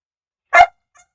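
A single sharp dog bark, loud and close, followed by a faint short yelp or whimper after a pause, in a quiet room during a live stream of a Buccaneers vs Dolphins football game.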